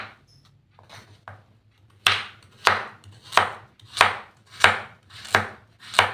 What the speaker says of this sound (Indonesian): Lalu kita potong dulu wortel yang sudah dikupas.